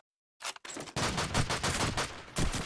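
Gunfire in the video game Call of Duty 2 during a competitive match: a quick burst of shots starts up, then rapid, sustained fire rattles on, loud and close, with no voices.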